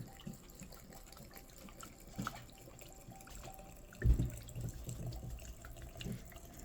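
Vodka poured over mullein plant matter in a jar, a soft continuous trickle and splash close by, with a brief louder gush midway, under low background hiss.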